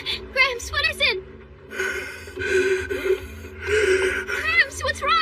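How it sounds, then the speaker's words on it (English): Heavy, labored breathing from a sick, feverish old man lying unconscious in an anime scene, with gasping, snorting breaths repeating in uneven bursts close up, mixed with other voices. "His breathing's heavy and he's unconscious."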